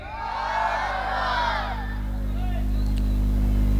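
A crowd of young men at a religious gathering roars back in answer to a takbir call, a loud, swelling mass of shouting voices that fades into a steady hum under a sustained hall drone.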